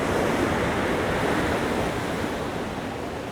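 Sea waves crash against a seawall in a loud, sustained roar of surf and spray, close and enveloping with some wind noise, easing slightly toward the end.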